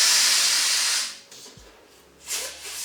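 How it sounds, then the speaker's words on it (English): Air hisses loudly and steadily out of an overstretched, pear-shaped latex balloon for about a second, falls quiet, then a second shorter hiss follows as more air is released. "let some air out"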